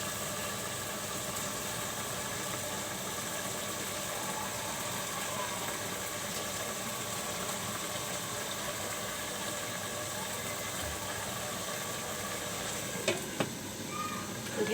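Tomatoes tossed into a frying pan of cooking flat beans and vegetables, giving a steady, fairly loud sizzle and hiss throughout with a few clinks of a utensil near the end.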